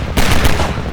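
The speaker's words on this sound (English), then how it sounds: "We got the good old explosive barrels. Sure to shoot those." Rapid gunfire hits explosive barrels in the video game Half-Life 2, a loud, dense burst of cracking shots packed close together over about a second.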